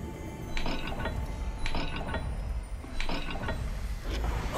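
Puzzle dial mechanism turning in a video game, heard as a few bursts of ratcheting, geared clicks spaced about a second apart over a steady low background rumble.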